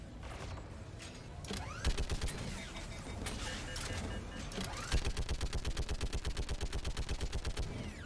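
A weapon in the video game Mass Effect 3 fires in scattered shots, then breaks into rapid automatic bursts with a sharp, evenly spaced rhythm, loud and close, with no talking.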